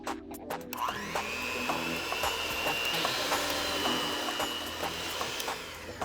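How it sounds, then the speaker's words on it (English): An electric hand mixer on low speed beats cake batter with olive oil in a kitchen, starting with a few clicks and then settling into a steady, close motor whine for several seconds with no talk. "Beat it with a mixer on low for about 3 minutes until it's nice and airy."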